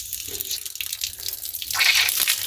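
Water gushes steadily from an opened water pump line onto a dirt basement floor, a close, continuous splashing hiss that grows louder and brighter toward the end.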